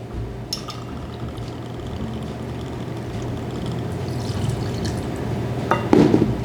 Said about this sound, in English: So a Black Russian is made in a mixing glass. We're going to start with the vodka. We're going to do 2 ounces of vodka.